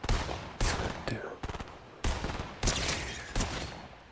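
Rapid bursts of in-game gunfire from a Fortnite match, several loud volleys of quick shots separated by short pauses, close and sharp with no talking.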